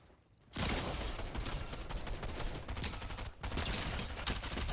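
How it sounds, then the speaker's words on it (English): An auto shotgun fires repeatedly in Fortnite, a dense, sustained burst of rapid blasts starting after a brief quiet moment, with a short break midway before the shooting resumes at similar loudness. "Someone's shooting an auto shotty over here."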